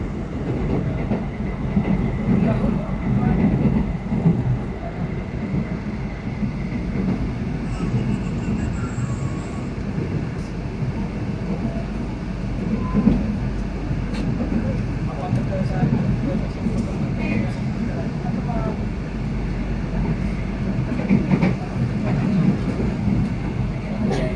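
Inside a moving Indonesian-made KRL commuter train in Jakarta, a continuous low rumble and rattle carries on for the whole ride. Scattered clicks rise above it and voices murmur underneath.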